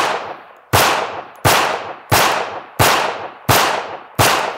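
Seven sharp handgun shots crack in quick, evenly spaced succession during a trigger-manipulation drill, each loud report close and decaying briefly before the next.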